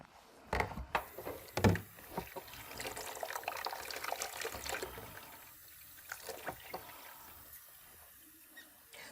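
Warm water runs from a tap into a basin for foot care at a nursing skills station, a soft continuous trickle and splash with a few louder clunks early on, then quieter filling.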